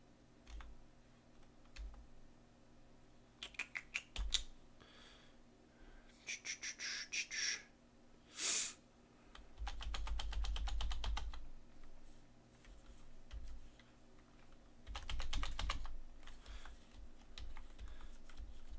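Bursts of clicky keystrokes on a computer keyboard as shortcuts are pressed in a PC game, quiet in between, with a faint low hum and a few soft thumps beneath.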